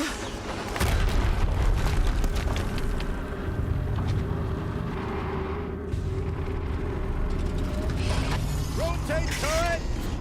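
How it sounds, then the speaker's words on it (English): An explosion in the video game Horizon Zero Dawn, with deep booming rumbles and mechanical clanks and ratcheting over a sustained low game soundscape, ending in a few whooshing rising tones. "Another explosion."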